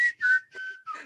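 A close, solo whistle carries a short phrase of the Rocky music, with gliding tones in three or four linked notes and no talking.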